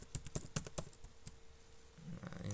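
Keys clatter on a computer keyboard while a certificate is filled in, a quick burst of close, crisp strokes followed by a pause and a few more scattered taps.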